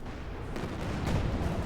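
Katyusha rocket barrage in the Company of Heroes 2 video game, a dense continuous rumble of launches and distant blasts that swells slightly, loud and without pauses.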